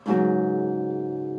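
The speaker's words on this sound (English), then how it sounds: "then we're going to hammer on to the 5th fret of the 4th string" Single guitar note hammered onto the 5th fret of the 4th string, a clean close pluck that sustains evenly and fades gently over a second or so.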